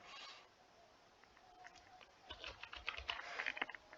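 Fingers tapping out a captcha code on a computer keyboard, a quiet scatter of light key clicks that quickens into a denser burst toward the end, with faint room noise beneath.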